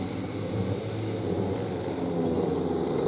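Junior light race cars lapping the Project X circuit during a ten-lap heat, their engines a steady, loud, continuous drone that holds at an even level for about three seconds.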